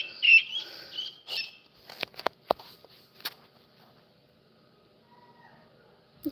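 Baby chicks give a few high peeps and squawks at the start, followed by scattered scratchy taps and rustles, then a long near-silent stretch.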